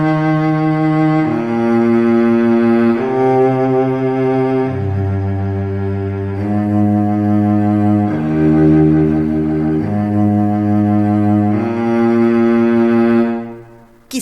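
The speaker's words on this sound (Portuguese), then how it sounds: "O violoncelo é um instrumento da família do violino e também é tocado com um arco" A bowed cello plays a slow melody of sustained low notes, each held for a second or two, rich and close, ending with a fading final tone.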